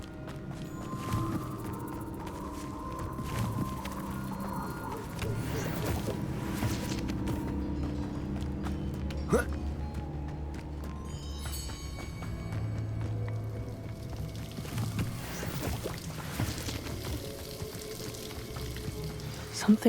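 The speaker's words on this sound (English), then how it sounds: "The waterfall." A waterfall in the Hogwarts Legacy game rushes steadily throughout, a constant broadband hiss and churn mixed with footsteps and scattered game effects, with no talk.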